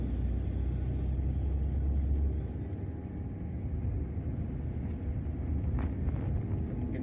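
A large vehicle drives on the Palembang–Betung eastern highway, a heavy low rumble of engine and road noise rolling steadily and close, easing slightly after a couple of seconds.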